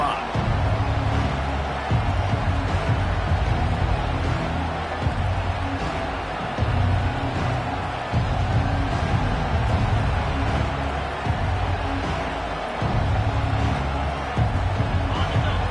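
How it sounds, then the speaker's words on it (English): Stadium crowd in College Football 25 at a Georgia home game against Virginia Tech, a steady roar of hubbub and cheering that runs loud and continuous throughout, with rhythmic low chanting pulses underneath. "This crowd trying to show them what it's going to be like all day in this house."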